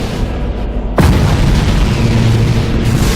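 A fleet of warships fires on a space station in Battlefleet Gothic Armada, with a sharp, loud boom about a second in that rolls into a sustained, heavy rumble of explosions and bombardment.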